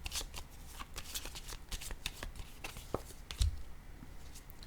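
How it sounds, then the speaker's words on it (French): Oracle cards being shuffled and drawn, a close run of quick riffling flicks and snaps in irregular bursts, followed by a soft thump and a few lighter card slides. "J'ai le goût de piger une carte ici sur elle."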